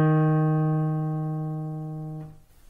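A single E flat note held on an instrument, one clean sustained tone that slowly decays over about two seconds before cutting off, close and alone with no voices.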